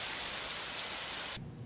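Heavy rain, a blood rain in an anime scene, pours as dense even hiss that cuts off abruptly after about a second and a half, leaving a faint low tone.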